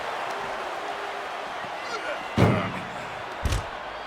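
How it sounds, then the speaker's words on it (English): Video game door slammed hard onto a wrestler's arm in WWE 2K25, two heavy metallic thuds a second apart over crowd noise and commentary. "Slamming the door on their arm."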